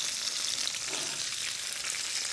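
A sea bass fillet sears skin-side down in a hot pan, giving a steady, dense sizzle that holds at an even level throughout, close up and with no voices.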